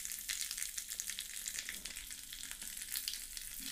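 Mustard seeds, urad dal and curry leaves frying in hot oil for a breakfast tempering, a dense steady crackle and sizzle with scattered sharp pops throughout, close and continuous with no talking.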